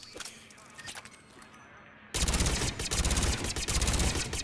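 Gunfire from the Mantis rifle in Mass Effect 3 at a shooting range: after a quieter stretch, a loud, dense burst of shots and impacts erupts and keeps hammering close by.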